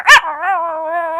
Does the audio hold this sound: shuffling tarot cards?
no